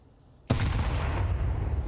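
Grenade detonating in a Counter-Strike match, a single sudden loud blast after near silence, followed by a sustained rumbling roar.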